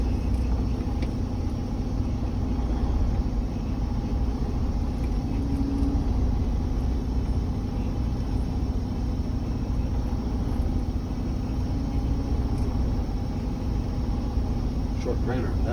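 A Class A truck engine rumbles low and steady while the truck backs up during a pre-trip check, with a person talking over the constant drone.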